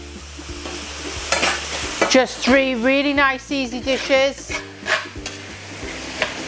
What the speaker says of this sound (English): ensure that you're watching your meat. We want that to cook, but we don't want it to burn.